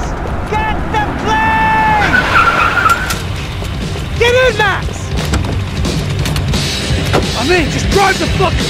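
Tires squeal and skid repeatedly over a roaring car engine in the video game Max Payne 3, with shouted voices mixed in and a dense, busy action-scene texture.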